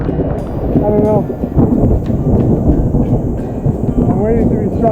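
Heavy, continuous rumbling fills the air during a storm in the Pyrenees mountains on a multi-day motorcycle ride, loud and steady throughout with rain and brief voices mixed in.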